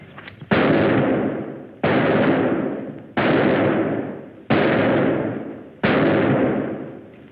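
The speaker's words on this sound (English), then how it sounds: "Good shooting, huh, Jimmy? 9 out of 10. Here, put up this new target" Five evenly spaced gunshots ring out during target shooting, each a loud sharp crack that decays with a lingering echo before the next, about one shot every second and a third.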